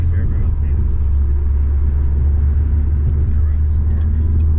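Cadillac ATS-V with twin-turbo V6 cruising on a dusty road, a steady loud low engine and road rumble droning throughout with no break.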